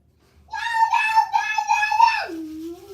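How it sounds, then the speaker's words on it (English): A child cries out in a sustained, tonal, high-pitched scream of about two seconds that ends in a falling whine, loud and close. "why are you screaming?"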